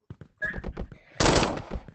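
Gunshots in a Roblox video game, a few sharp bursts early on followed by a louder, denser volley near the end, close and punchy.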